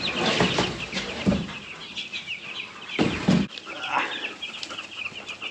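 Young chicks on a pasture farm, clucking and cheeping in a steady overlapping chorus, close and fairly loud, with a few sharper bursts of calls and brief flutters.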